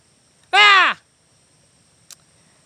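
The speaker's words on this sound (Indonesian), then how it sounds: "Ada burung tadi" A crow gives one loud, close caw with a harsh, slightly falling tone, followed by a long quiet stretch and one faint, brief chirp.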